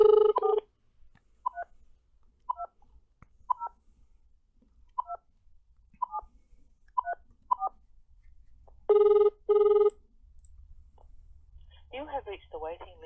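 A phone number is keyed in on a telephone keypad as a brisk series of separate dial tones, followed by two longer ringback tones, then a recorded voice starts answering at the end.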